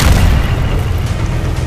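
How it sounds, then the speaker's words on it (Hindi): A Merkava tank fires a shell in war-torn Gaza ruins, heard as a heavy, rumbling low boom that stays loud and saturated from start to finish. "मरकाबा टैंक को जहां हल्की सी भी हरकत दिख रही है, वहां वो गोला फायर करता है।"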